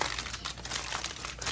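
Double-layered aluminum foil crinkles and crumples as it is folded tightly around meat for barbecue, a steady close crackling with no pauses.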